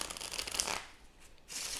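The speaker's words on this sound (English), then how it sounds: "It's a pretty strong shuffle." A Tarot of the Divine deck is shuffled in two quick, crisp bursts of riffling cards close up, with a short quiet pause between them and no talking.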